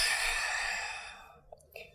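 A long, soft exhale during a yoga flow, breathy and near, trailing off into quiet with a couple of small breath sounds at the end.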